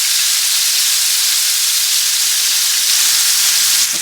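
Porterhouse steak sizzles in a hot pan, a steady loud bright hiss of fat and juices spitting, continuous and close, with no speech.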